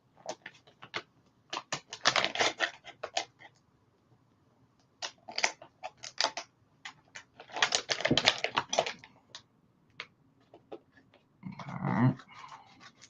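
A plastic package of 5-inch soft fishing baits is opened with bursts of crinkling and crackling plastic, close and sharp, in several clusters separated by short pauses, ending in a softer rustle.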